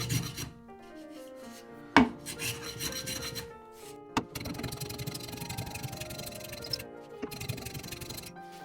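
A hand plane shaves the wooden blocks on a guitar rim mould, producing rasping, scraping strokes with a couple of sharp knocks, fairly close and without talk.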